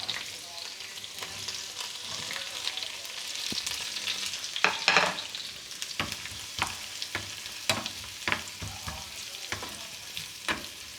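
Sliced onion frying in a pan for tomato chutney, a steady close sizzle with scattered sharp clicks and scrapes as it is stirred.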